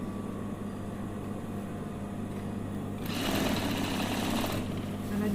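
A sewing machine stitches elastic onto batik trousers, starting up partway through as a loud, fast, whirring run of stitches for over a second, then easing off against a steady background hum.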